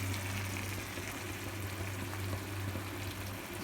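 Potatoes fry in ghee for shahi aloo, a soft continuous sizzle and bubbling that stays steady and fairly quiet throughout, with no voices.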